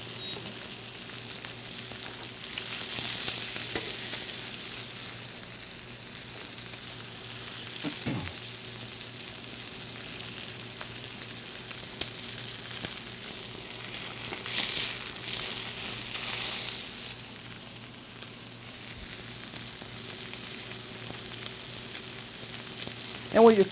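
Stuffed pork chops fry in a pan, a soft steady sizzle with gentle crackling and occasional stirring or shifting noises, heard alone at moderate level.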